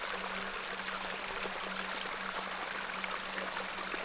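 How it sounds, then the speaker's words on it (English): Stream water in the video game The Excavation of Hob's Barrow flows and tumbles in a steady, continuous broadband rush, with a faint low hum beneath and no voices. "You see this beck before you. Look at the water. See how it tumbles and falls."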